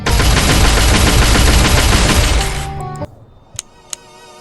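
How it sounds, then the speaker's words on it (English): Rapid, dense gunfire from weapons being tried out in a shooting gallery in the mobile game Pixel Gun 3D, loud and continuous for over two seconds, then cutting off into a few sharp metallic clicks and pings. "you can go to the gallery and test the weapons out"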